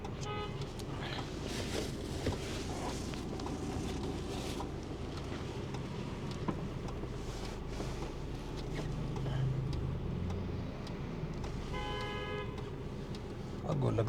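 Road traffic jam heard from inside a vehicle, with steady engine and wind rumble, scattered car horn toots near the start and again toward the end, and someone talking over it.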